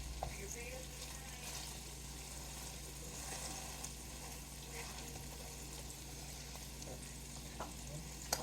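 A cheeseburger patty fries in a pan with a steady, quiet sizzle and crackle that runs unbroken throughout, close by, with no voices over it.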